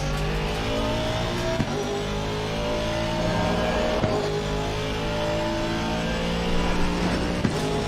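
A car engine revs steadily in a racing video game during a Friday night run, a continuous loud drone with shifting pitch and a few brief knocks, heard alone without talk.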